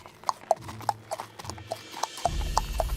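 A donkey's hooves clip-clop on a cobblestone street in a steady, close rhythm of about ten hollow knocks, with a low rumbling background rising partway through.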